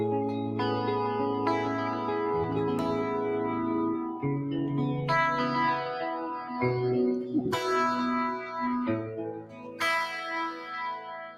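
Clean electric guitar with split pickups plays a steady run of clear, bright chords and single notes, ringing out with light echo and shimmer, close and alone with no talk.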